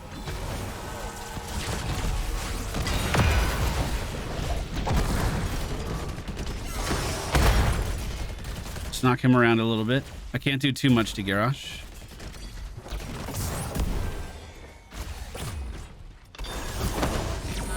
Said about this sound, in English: This wall is advancing.